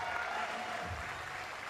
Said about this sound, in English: hence that loud cheer and round of applause in the background